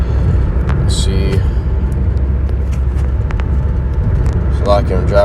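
Inside a moving car, a constant low road and engine rumble fills the cabin while someone talks over it, with occasional clicks and brief higher noises.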